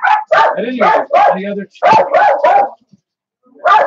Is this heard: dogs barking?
yes